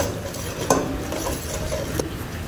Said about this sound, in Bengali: 1 চামচ লবণ, 1 চামচ মরিচের গুঁড়া, 1 চামচ ধনিয়ার গুঁড়া এবং 1 চামচ জিরার গুঁড়া দিয়ে খুব ভালো মতন নেড়ে চেড়ে নেব